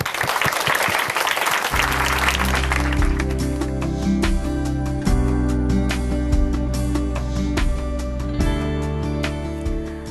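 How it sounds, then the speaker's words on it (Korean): Congregation clapping in a church in Chuncheon, a dense burst of applause for the first couple of seconds that fades as sustained instrumental music with deep bass notes takes over and continues. "박수로 함께 청해 듣겠습니다."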